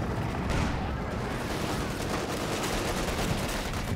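Machine gun fire rattles in a military strategy video game match, with dense, continuous bursts of gunfire and distant explosions packed together at a loud, steady level.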